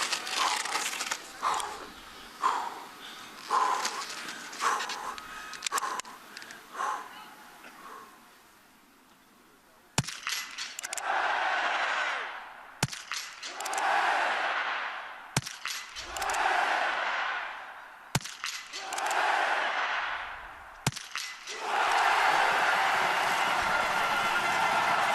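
At the biathlon shooting range of the Grand Bornand women's sprint, rifle shots ring out as a series of sharp cracks, each followed by a short decaying burst, with about five spaced a few seconds apart after commentary-like sound at the start.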